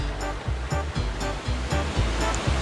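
Whirlpool water in the video game Pokémon Snap, a loud looping rush of churning water with a pulsing, rhythmic surge repeating about every half second.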